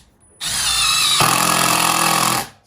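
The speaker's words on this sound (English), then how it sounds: "Let's drive a self-tapper into some wood." A Milwaukee M12 impact driver drives a self-tapping screw into wood: a loud, close whine that jumps into a hard, rapid hammering rattle as the impact mechanism engages, running steadily for about two seconds before cutting off.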